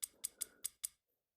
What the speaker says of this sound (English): Oh my God, we're cutting the stomach open.